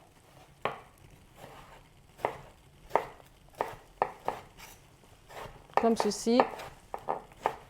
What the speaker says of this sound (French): je vais prendre mon aubergine que je vais couper en deux. On va faire des petits cubes